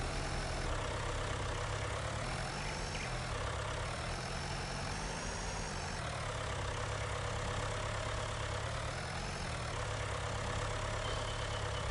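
A tractor engine in Farming Simulator 19 idles with a steady, even drone that holds at constant loudness throughout, with no talking over it.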